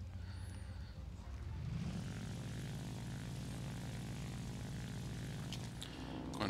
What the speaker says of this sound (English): We'll take the Raiden out for a quick test flight.